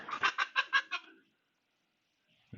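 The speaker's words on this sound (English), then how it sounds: "So far, the chicken and the cat seem to be doing okay with each other." A loose backyard chicken near a coop gives five quick, close clucks in a rapid bursting run, then goes silent.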